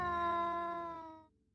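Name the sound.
cat meowing, sound effect in folk tale narration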